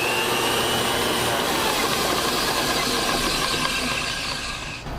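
An old pipe threading machine runs steadily in a hardware store, giving a continuous loud motor drone with a grinding, rattling mechanical texture that winds down at the very end.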